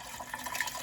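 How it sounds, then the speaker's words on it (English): Raspberry vinegar pouring gently into a big gallon jar, a brief close splashing, gurgling stream of liquid. "now I'm gonna just gently pour it into my big"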